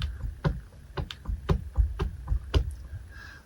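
Drumming without a drumkit, using the heel-toe technique on improvised surfaces: a series of about eight dull, thumping hits in an uneven rhythm, close and moderately loud, with no talking.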